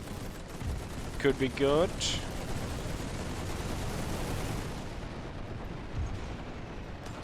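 Gunfire from units in the WWI strategy game The Great War rumbles as a dense, continuous stream of distant shots and booms, with a voice speaking briefly over it.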